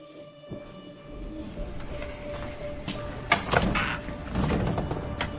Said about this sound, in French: Tu vas ouvrir la porte?